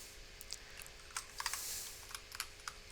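Typing on a computer keyboard: quiet, irregular clusters of close keystrokes tapping for a few seconds, with no talk.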